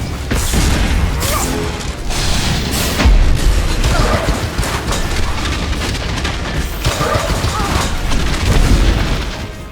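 Hover tanks being destroyed in Star Wars: The Old Republic, a dense barrage of loud booms, crashes and blasts rolling one into another, close and forceful, with battle noise throughout.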